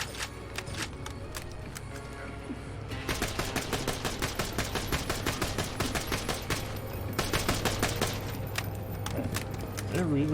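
Automatic gun fire in an Xbox video game, sharp evenly spaced shots in long rapid bursts with brief pauses between them, loud and close over a steady low hum.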